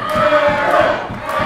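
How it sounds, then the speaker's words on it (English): A wrestling crowd roars and chants in support of wrestler Aaron Neal, a loud sustained wash of voices with rhythmic pulses like clapping or stomping throughout. "The crowd solidly behind Aaron Neal."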